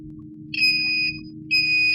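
Continuity beeps from a multimeter testing a short to ground on a Samsung J2 Prime SM-G532G board, two clear sustained electronic tones about half a second each, close and loud over faint background hum.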